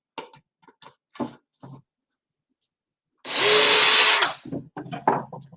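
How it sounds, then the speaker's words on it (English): Power drill boring pilot holes into the back of a wooden picture frame, one loud whirring burst of about a second close by, surrounded by light handling clicks and taps on wood. "I've drilled my pilot holes on the back"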